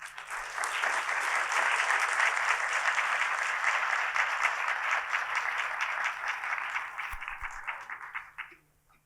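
An audience applauds to welcome speaker Darla Miles at the Reflections of Excellence 2024 event, a dense, steady crowd clapping that holds for about eight seconds and then fades away.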